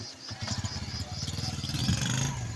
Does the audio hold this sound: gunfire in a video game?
no